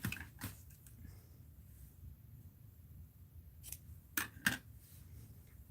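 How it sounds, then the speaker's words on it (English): Scissors cutting a craft piece in half in a quiet room, with a soft snip early on and then three crisp snips near the end, close and fairly faint. "I think I'm going to have to cut this in half."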